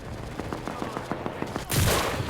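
Rapid bursts of gunfire in the video game Enlisted ring out in a quick regular rhythm, a string of sharp shots followed by a louder, sustained blast near the end.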